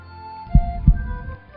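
Human heartbeat, two deep, low thumps in quick succession, close and fairly loud over a soft background hum.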